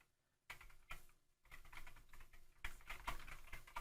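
Typing on a Unicomp buckling-spring keyboard, a replica of the original IBM design, comes as bursts of loud, clacky keystrokes in quick irregular runs, with a brief pause after the opening strokes.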